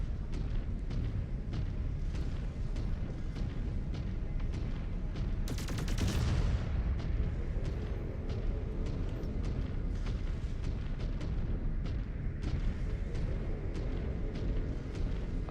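Mech weapons fire nonstop in MechWarrior 5: Clans, a steady drumming of rapid heavy shots with rumbling impacts and a bright burst near the middle, loud and close with no talking.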